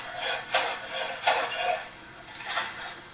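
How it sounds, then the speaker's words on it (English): A knife chopping fresh basil into ribbons on a cutting board, with three spaced, crisp cuts over soft background noise. "we're going to chop that first into"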